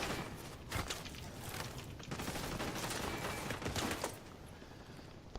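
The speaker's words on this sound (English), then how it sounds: "Please stop shooting me" Bursts of rapid gunfire in The Division 2 crackling against a steady background din, with several sharp clustered volleys at moderate, slightly distant volume.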